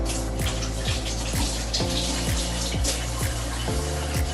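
Tap water runs steadily and loudly into a sink during handwashing, a dense broadband rush with small splashes and gurgles throughout, close by with no talking.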